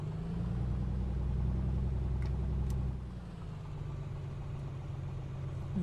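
Piper PA24 Comanche engine idling in Flight Simulator, a steady low rumbling drone that eases to a slightly quieter, lower idle partway through after power is pulled back.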